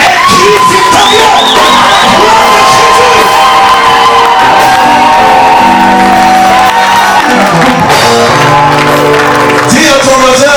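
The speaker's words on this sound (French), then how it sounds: "Est-ce que quelqu'un peut pousser un cri victorieux?" A church congregation lets out loud, sustained victory shouts and whoops that keep up without a break, a crowd roar filling the room with a few single voices rising above it.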